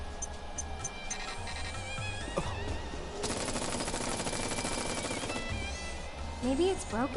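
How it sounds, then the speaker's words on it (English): An automated gun turret in Final Fantasy VII Remake fires a rapid sustained burst of gunfire amid game music and tones, with moderate loudness and no speech over it. "Remember this? Where the gun shoots at you?"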